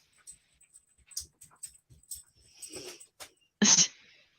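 A dog whimpers close by in a quiet room, giving soft scattered high whines and snuffly breaths, then one sharper sneeze-like burst near the end.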